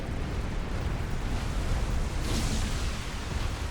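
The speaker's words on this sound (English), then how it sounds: "There goes his TAC missile launcher." A TAC missile launcher blows up in a 6v6 team game, heard as a dense, continuous roar of explosive rumble with no distinct single blast, with no talk.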